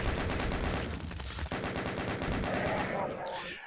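Rocket launcher and chaingun fire in Doom: rapid, dense bursts of gunfire with heavier blasts mixed in, continuous and close, with no talking.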